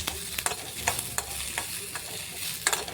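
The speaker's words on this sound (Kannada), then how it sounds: "ಇವಾಗ ಆನಿಯನ್ ಆ್ಯಡ್, ನೆಕ್ಸ್ಟ್ ಕರಿ ಪತ್ತ, ಕರಿ ಲೀಫ್ ಆ್ಯಂಡ್ ಡ್ರೈ ಚಿಲ್ಲಿ ಹಾಕ್ತಾಯಿದ್ದೀನಿ." Onion, curry leaves and dry chilli fry in hot oil, close and fairly loud, a continuous sizzle broken by regular scrapes and stirs of a spoon in the pan, with no talking.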